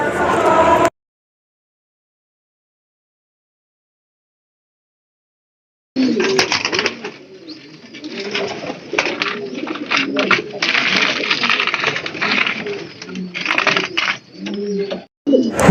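Pigeons on a pigeon farm coo in a dense, steady chorus of low, throaty calls. The chorus starts after a short burst of sound and a long silence, sounds fairly close and has a murmur of voices mixed in.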